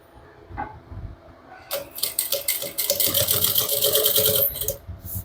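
A sewing machine runs a closing seam on a handmade bag at stitch length 3.5, starting after a short pause and then whirring steadily and loudly in a fast mechanical chatter for about three seconds before it stops.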